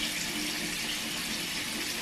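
Steady running water from a bathroom sink tap, rinsing a walnut face scrub off skin, a continuous close, even hiss with no talking.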